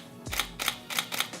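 A handheld camera's shutter fires at 1/50 and 1/1000 of a second, giving four crisp, close mechanical clicks, the later pair spaced tighter, with no talking.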